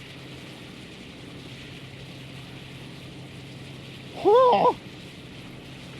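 In Train Sim World 2 on the West Somerset Railway, a train engine at about 25 mph drones steadily like a WWII aircraft, and a voice exclaims briefly near the end.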